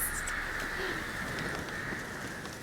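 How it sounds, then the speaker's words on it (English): Many birds flock together in The Witcher 3 video game, their faint cooing and chirping calls scattered over a steady, even ambient hum throughout, with no voices. "That is a lot of birds."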